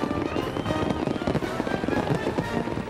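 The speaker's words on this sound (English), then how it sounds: "Each year, we have our parades and our fireworks on July 4th" Continuous crackling bursts and pops from a Fourth of July fireworks display, dense and steady throughout with no clear pauses, sounding moderately distant.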